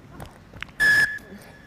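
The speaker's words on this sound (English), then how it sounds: "that's the full-time whistle from the referee" A referee's full-time whistle at an under-19 rugby match between Hong Kong and Sri Lanka, one clear shrill blast lasting about a third of a second, then a fainter trailing tone over crowd ambience.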